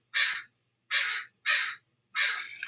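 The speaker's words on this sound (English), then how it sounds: "That is my neighborhood crow," Four raspy caws from a neighborhood crow ring out close and clear, evenly spaced, with the last call drawn out slightly longer; no other sounds compete.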